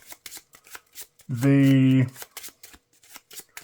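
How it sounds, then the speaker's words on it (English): Marvel Champions game cards are riffle-shuffled once in a short, loud, close burst. Someone talks briefly before and after. "Let's give these a shuffle."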